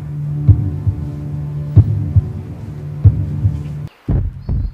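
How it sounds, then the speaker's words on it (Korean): A heartbeat sound effect in a Korean-to-Turkish drama remake, deep low thumps in slow paired beats over a steady hum, then a brief drop to silence and a final swell. "심장의 두근거림과 함께 송승헌을 사랑하게 됩니다"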